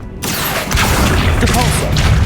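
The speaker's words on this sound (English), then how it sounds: "Accio!" The Accio spell effect in Hogwarts Legacy, a loud, dense magical whoosh and rumble with low booming weight that fills the short moment, with a voice briefly mixed in.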